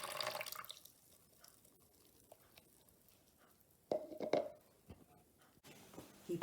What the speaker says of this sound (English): he poured water into the basin and washed his disciples' feet